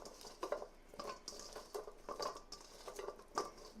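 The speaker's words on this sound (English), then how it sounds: "take your hand and you're just going to mix. So the potatoes get coated in the olive oil." Hand tossing cut potatoes with olive oil in a bowl, giving soft, wet patters and light clinks in an irregular rhythm, quiet and close with no talk.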